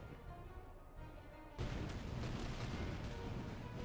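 Musket volleys crackle and rumble in a Napoleonic-era battle game as French line infantry fire into an enemy flank, a dense sustained roar of massed shots starting abruptly and continuing loud with no talk.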